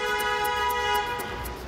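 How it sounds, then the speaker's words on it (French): A car horn on a busy Paris street sounds as one sustained, fairly loud toot over low traffic noise. "quand on entend un coup de klaxon"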